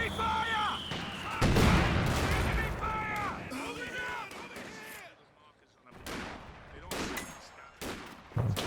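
Anti-tank gun fire in Company of Heroes 2, with several sharp, heavy shots and booms over about nine seconds, mixed with other battle noise. A commentator talks throughout.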